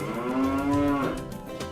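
Cattle moo at midday feeding on fresh grass: one long, loud, close bellow holding a steady pitch and trailing off, followed by faint rustling.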